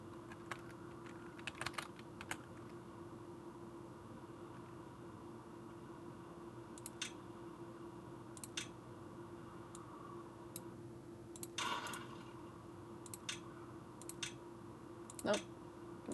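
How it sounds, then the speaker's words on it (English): Quiet, scattered mouse clicks and a few light keyboard taps sound close against a faint steady hum, arriving in irregular bursts during computer play. "I'm gonna keep clicking on the wrong thing"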